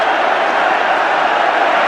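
Dense crowd roar from Chelsea fans celebrating a goal at a 1982 football match against Spurs, a steady broad wash of cheering holding level throughout.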